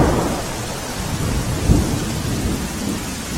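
Heavy monsoon rain pours steadily over the Netrang area near Bharuch, with a single low rumble of thunder rolling through midway, no voices present.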